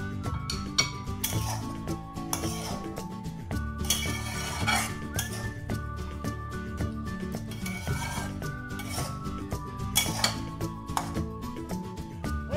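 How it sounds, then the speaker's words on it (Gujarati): Amaranth leaf curry stirred in a pan, with a utensil scraping and clinking against metal in a steady, continuous rhythm; the sound is close and moderately loud, with no one speaking. "હવે આપણે શાકને મિક્સ કરી દઈશું"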